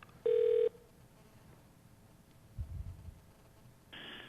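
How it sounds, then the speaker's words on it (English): A telephone call being forwarded: a steady electronic ring tone bursts briefly, then quiet line hiss with a low rumble, and another ring tone starts at the end. "while the phone is ringing"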